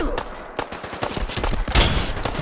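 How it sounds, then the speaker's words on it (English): Slow, heavy gunfire from the Reaper of Pantheon weapon mod in Fallout 4, with several loud booming shots and their echoes packed close together across a dense, noisy game mix. "it just feels like you're firing a big gun"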